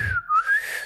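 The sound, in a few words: people whistling to tease Prashant Kishor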